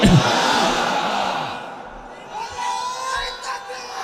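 At an outdoor Islamic waz gathering, a large crowd roars back in unison answering a takbir call, a loud sustained collective shout that swells, dips and rises again with overlapping voices.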